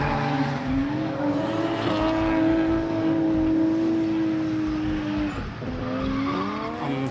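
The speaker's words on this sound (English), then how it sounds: "Hitting the track was Matt Sellers in his S14 Sylvia" A 1996 Nissan S14 Silvia, rebuilt from a written-off wreck, runs on a race track with a loud, sustained engine note climbing through the revs. Tyres squeal alongside it, and a second car is heard nearby.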